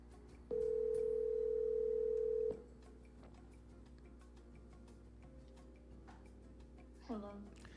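A steady telephone dial tone sounds for about two seconds, then drops away, leaving a soft ticking line and a brief tone burst near the end. Faint voices are present in the background.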